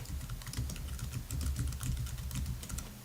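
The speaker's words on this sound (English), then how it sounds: "I'm going to go ahead and type it into the comments at the bottom" Steady typing on a computer keyboard, quick irregular key clicks close by with no talk, while filling in an online service scheduling form for a Honda.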